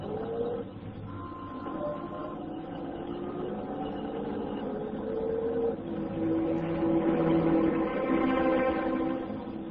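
Steady engine drone of a car being driven, with a continuous rumble that slowly swells louder toward the end, no distinct voices over it.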